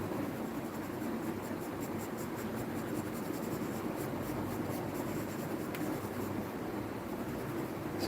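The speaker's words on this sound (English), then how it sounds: "Let me write it here." A pencil scratching on paper during quick anime action-pose drawing, a steady continuous rubbing hiss, close and even with no voices.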